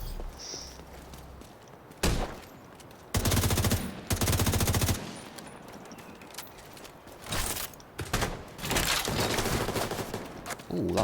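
Sniper rifle fire in The Division 2, heard as several loud, sharp bursts of gunfire with quieter gaps and some mechanical clatter between them.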